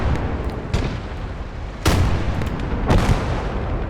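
Heavy artillery booms out in a video game battle, with three sharp blasts rolling over a constant low rumble of distant fighting and no talk.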